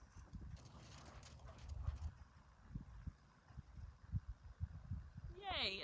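Hooves of horses clip-clop unevenly across an arena ring at an adoptable horse meet and greet, with a 2012 mare among them, soft to moderate and partly under background talk.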